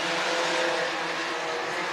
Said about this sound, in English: He's going to drop the green, and we are going racing with the Culver Sport Compacts.